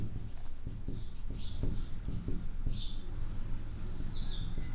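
Chalk or marker strokes on a classroom board, a steady run of short scratchy squeaks and taps in irregular rhythm, close and moderately loud, with no talking.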